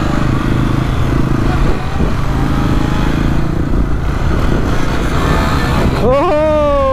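A motorcycle doing repeated wheelies gives a loud, close, continuous engine roar. Near the end a rising whine climbs above the drone, and faint voices sit under the noise.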